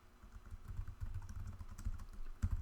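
Quick clicky keystrokes on a computer keyboard, typed in short irregular bursts at close range, with a few louder taps near the end and no talking.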